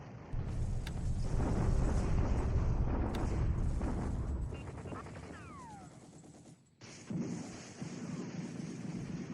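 Bombardment explosions from a World War II Pacific strategy game rumble in a dense, continuous roar with rattling bursts, swelling loudly before a brief drop and resuming.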